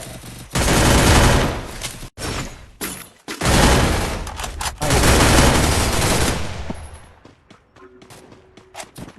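Sustained bursts of automatic weapon fire in a first-person shooter game, loud and continuous for several seconds at a time, separated by sharp breaks and fading into faint isolated pops.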